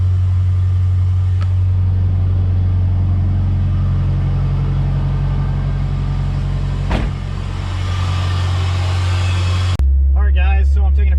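A Honda S2000 running on E85 fuel, its engine holding a loud, steady drone close by for several seconds before an abrupt shift to a sharper, revving tone at the end.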